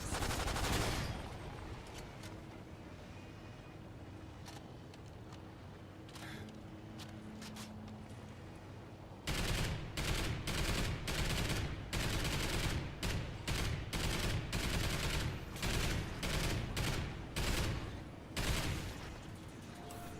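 LSAT light machine gun firing in the Mayday video game, starting with rapid sustained bursts and, after a pause of ambient game noise, returning as a series of loud, repeated broken bursts.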